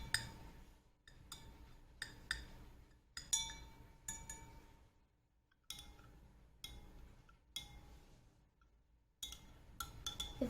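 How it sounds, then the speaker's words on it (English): A spoon stirring a solution in a drinking glass for a kids' science experiment, bright clinking taps in short irregular bursts separated by quiet pauses, close and fairly soft. "Now let me stir in my first glass."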